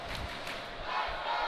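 Hockey arena crowd roaring a Let's Go Eagles chant at an ERAU versus UCF game, loud dense massed voices filling the building with rhythmic swells.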